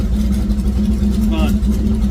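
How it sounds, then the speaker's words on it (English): A car engine running hard on a dyno during a nitrous pass, a loud, steady, low drone that stays close and continuous throughout. "Nitrous passes are so cool in this thing on the dyno because you just feel everything"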